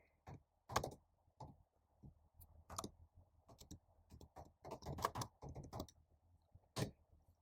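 Keys clatter on a computer keyboard in irregular bursts of taps and clicks, fairly close and moderately quiet, with short pauses between runs and no talking.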